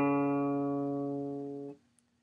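Plucked open for tuning, a guitar's D string rings out as a single bright, sustained note that stops abruptly after under two seconds, heard on its own.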